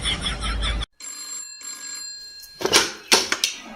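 A mobile phone rings with a steady electronic tone after a sharp cutoff, followed by several loud knocks or clatters close by.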